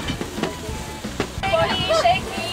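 Beef steaks, some well done and some rare, sizzle on an outdoor grill alongside potatoes, a steady crackling hiss with scattered pops and clatter of cooking.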